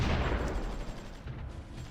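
Artillery pieces fire in the strategy game Supreme Ruler Ultimate, a dense, continuous rumbling barrage with no clear separate shots, steady and fairly loud throughout.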